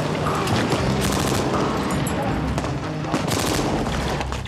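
Heavy gunfire rattles continuously through a surprise attack during a military urban warfare training exercise, dense overlapping bursts and single shots close by, with faint voices underneath.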